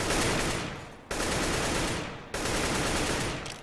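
Rapid automatic gunfire during a Counter-Strike match, three sustained bursts of dense spraying fire separated by brief breaks, loud and close with no talk.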